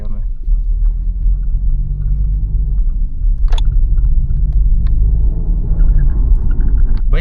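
A Maruti Fronx turning through a tight U-turn, heard from inside as a steady low engine and road rumble with a couple of faint clicks, under people talking.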